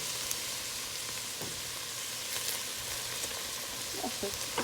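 Onions frying for mjadra hamra, a Jordanian lentil dish, give off a steady, close sizzle with faint scraping as a spatula turns them in the pan.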